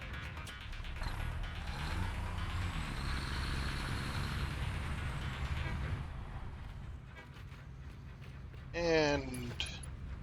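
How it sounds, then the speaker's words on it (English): Truck driven in the video game Satisfactory, with a steady engine drone and rumble and a short burst of revving near the end, under talk. "Let me get my truck out of the way first"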